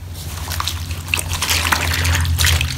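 Water sloshing and trickling in a basin as a garment soaks in shampoo for a hand wash, steady and close, with low hum underneath and no talk.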